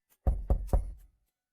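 Three firm knocks on a door in quick succession, close and fairly loud, each with a short dull thud, followed by a brief fading tail.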